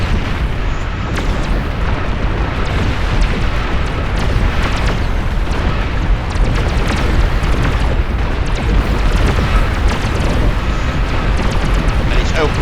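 Booming artillery fire and explosions pile up in the real-time strategy game Beyond All Reason, a dense and loud barrage of overlapping blasts that never lets up, with a voice talking over it.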